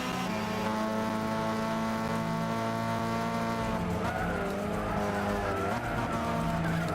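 A race car in Gran Turismo 6 runs a lap with a loud, steady engine drone and rising and falling harmonic whine, with a tire squeal near the end, continuous and close.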